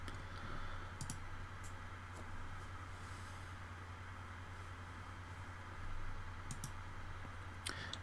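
A few faint, sharp computer mouse clicks scattered over a steady low hum in a quiet room, with no one speaking.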